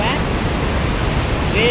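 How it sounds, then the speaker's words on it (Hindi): Waves surging in a river give a loud, constant roaring wash of water with no pause, close and enveloping, with a faint voice at the edges. "वेव आ रही है, वेव है,"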